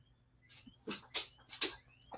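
A dog whimpers and yips in a few short, high, rising bursts, close by and fairly soft, with quiet gaps between the cries.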